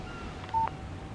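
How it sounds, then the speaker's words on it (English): A brief, faint electronic tone chirps once as a phone's text message alert in the video game Alan Wake, sitting quietly over a low background hum. "What did I tell you? Text message from Barry."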